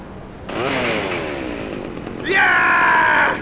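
A chainsaw revs in Grand Theft Auto: Liberty City Stories, first a loud whining run that sags in pitch, then a sharper, higher rev that holds steady and close until the end.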